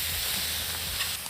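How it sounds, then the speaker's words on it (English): Loud, steady hissing sizzle of chili peppers in adobo sauce frying with onions and garlic at an outdoor boma braai, continuous and close with no voices. "The onion is almost ready, so I'm gonna add the chili peppers in adobo sauce."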